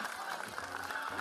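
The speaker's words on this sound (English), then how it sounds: "The crowd egging him on here." A crowd cheers and applauds a competitor charging toward the finish line of a strongman event, a dense roar of voices and clapping with a commentator talking over it.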